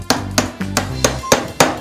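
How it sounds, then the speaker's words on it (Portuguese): Hammer lightly tapping a metal ring down onto a homemade wooden chisel handle in a workshop, six evenly spaced sharp knocks, close and clear. "Agora eu bato levemente com o martelo"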